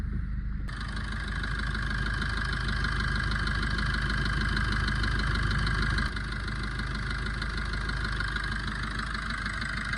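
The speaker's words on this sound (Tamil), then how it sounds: "வண்டி ஸ்டார்ட் பண்ணுறேன்." A 2019 Maruti Swift Dzire with 242,000 km and an overheating fault fires up and settles into a steady, loud idle, its engine drone continuous and close with no talking.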